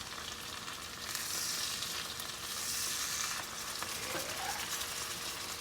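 Salmon frying in a hot pan, a steady close sizzle that swells and eases, with a brief scrape partway through and no talking.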